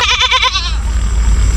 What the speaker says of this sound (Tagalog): dito kasi pinapakain yung kambing kasi maraming damo dito